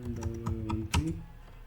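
Numbers being typed on a computer keyboard: a quick series of close, crisp key clicks with a few louder taps, no talking.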